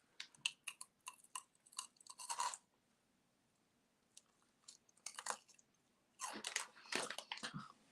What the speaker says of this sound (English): This whole stream is just you crunching on Cheetos